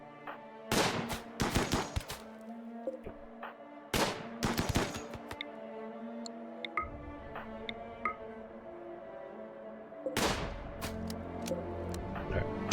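Gunfire in the video game RimWorld: scattered bursts of sharp shots in clusters, with small ticking clicks and a steady low hum between volleys.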